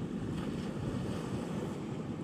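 Steady wash of surf breaking at the water's edge on a beach, a continuous broadband rush with wind buffeting the microphone throughout.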